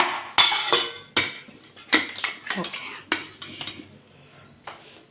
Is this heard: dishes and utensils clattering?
yes